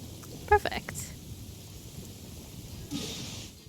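A thunderstorm in the video game Genshin Impact: steady rain hiss with a low rolling rumble of thunder and a brighter crackle near the end. A voice speaks briefly early on.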